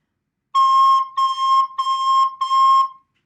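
A recorder plays the note C four times in a row, one steady high tone held about half a second each, clear and close with no voices.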